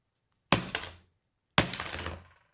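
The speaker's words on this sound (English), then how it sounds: "now I've really wailed on it, and there's just tiny little pieces of glass and shards" Two sharp smashing impacts on a Nest security camera, each a loud crack followed by a short scatter of breaking glass shards, about a second apart.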